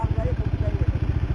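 A Bajaj Dominar 400 BS6 motorcycle idles close by near a waterfall, its engine thumping in a steady, rapid low pulse throughout, with voices nearby.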